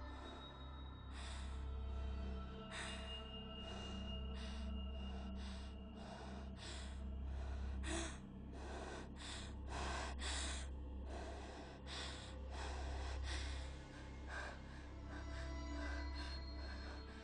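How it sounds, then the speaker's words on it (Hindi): A woman pants heavily and gasps, a run of quick, loud breaths and snorts close by, repeating steadily over a low background hum, with no talk. "क्यों इतना हाँफ रही हो?"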